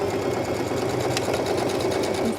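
A sewing machine runs steadily with the standard presser foot, stitching a straight seam along a fabric cushion cover at a constant close whirring hum.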